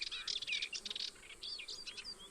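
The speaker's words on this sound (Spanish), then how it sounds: "entre ellos los cantos de currucas, zorzales, colirrojos, collalbas y roqueros" Songbirds such as warblers, thrushes, redstarts, wheatears and rock thrushes sing in a Mediterranean holm oak woodland near Alcoy, a busy overlapping chorus of bright chirps and whistled phrases, fairly close.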